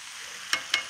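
Chunks of pork browning in a hot pan for a curry, a steady broadband sizzle with a few sharp spits and crackles near the end, close and fairly loud, no voices.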